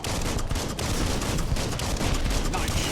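Dense, sustained gunfire in the video game Biomutant forms a loud, continuous broadband rattle of overlapping shots with little pause.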